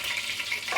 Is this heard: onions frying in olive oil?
yes